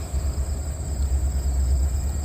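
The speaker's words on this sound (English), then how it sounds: "Alright, now we got a train coming for sure" A train approaches near a lift bridge, a deep continuous low rumble with a steady high hiss, fairly loud and unbroken throughout.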